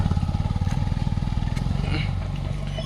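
A motorcycle engine labors on a rough off-road climb on the route to Kodaikanal, carrying two riders, a loud near chugging with rapid regular pulses that steadies into a strained drone.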